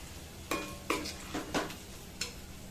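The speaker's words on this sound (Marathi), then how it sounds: "आता याच्यामध्ये आपण ही प्युरी टाकून घ्यायची टोमॅटोची. छान मिक्स करायची." Tomato puree stirred into golden fried onions in a pan for paneer biryani, several distinct scraping stirs at irregular intervals over a soft background sizzle, close and fairly quiet, no talking.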